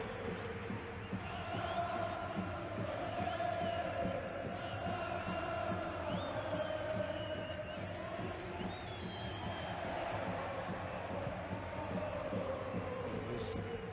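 A large stadium crowd of Urawa Red Diamonds fans at the 2017 Asian Champions League final against Al Hilal, chanting and singing in a steady, sustained roar, distant but filling the space, under commentary.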